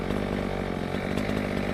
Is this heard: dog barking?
no